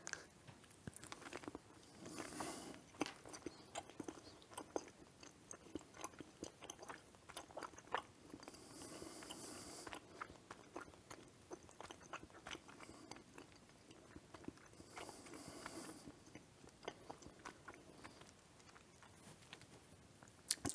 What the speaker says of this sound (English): the only thing I don't like about Tootsie Rolls is that they have a very hard chew, as you saw